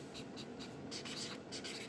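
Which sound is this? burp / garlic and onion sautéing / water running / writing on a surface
writing on a surface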